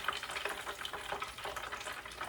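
Salmon balls frying in hot oil in a home kitchen, a steady soft crackling sizzle with light bubbling throughout, fairly quiet and with no talking.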